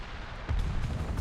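A tank cannon fires in War Thunder, a single deep low boom at about half a second followed by a rumbling tail, heavy and close, with no talking.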